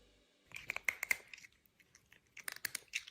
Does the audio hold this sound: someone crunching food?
yes